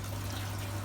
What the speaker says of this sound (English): Bell siphon flushing again.